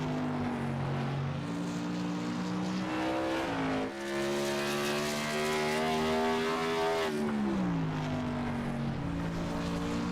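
A modified race car laps at speed in qualifying, its engine a loud sustained drone that rises and falls through gear changes, passing and receding with no talk.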